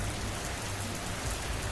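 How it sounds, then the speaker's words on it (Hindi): Steady, soft rain pours through a stormy night in a short, continuous wash of falling drops with no voices. "बरसात की उस रात में जहां पर एक दूसरे को कुछ नजर नहीं आ रहा था"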